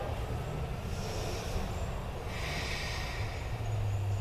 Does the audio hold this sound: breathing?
yes